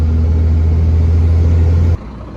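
A loaded truck's engine roars with a deep, steady low rumble as it revs under acceleration at night, loud and close, then cuts abruptly to a quieter idle near the end.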